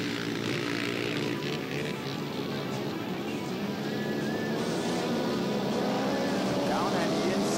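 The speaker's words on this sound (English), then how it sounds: "that quad is making a different sound. It sounds like he's got a 4-cylinder engine in there" A four-cylinder quad ATV races in a heat on an ice track at a winter motorcycle ice race, its engine buzzing continuously and loud with shifting, whining pitch alongside other machines.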